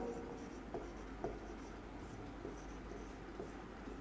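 Chalk or marker scratches across a board in a classroom lesson on mirror theory, short repeated strokes in an uneven rhythm, close and fairly quiet over a steady background hiss.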